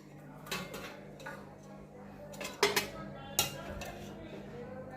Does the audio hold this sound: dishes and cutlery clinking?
yes